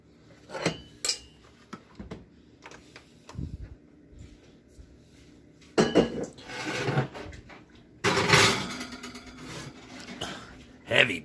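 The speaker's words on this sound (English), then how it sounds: "We're going to go ahead and put that in the oven." A shepherd's pie dish goes into an oven onto the rack, with clanking and rattling of the metal rack and dish in scattered bursts, the loudest clatters coming near the end.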